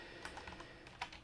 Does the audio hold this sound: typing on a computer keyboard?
yes